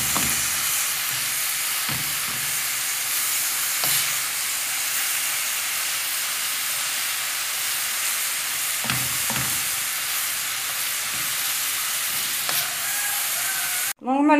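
Minced meat fries in a pan with a constant loud sizzle and hiss, broken by a few scraping knocks as it is stirred and pulled apart, ending in a brief clatter.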